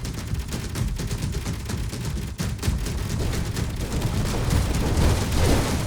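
Sustained automatic gunfire hitting a player in the Space Engineers survival video game, a dense, loud, continuous rattle of rapid shots with heavy low rumble throughout.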